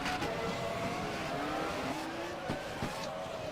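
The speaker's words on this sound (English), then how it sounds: "If you go on board with him, he's obviously going to be over revving the engine." An F1 car at the Mexican Grand Prix, stuck in first gear, over-revs with a sustained high engine whine over steady broadband roar and track noise. Brief tire-scrub bursts cut in near the end.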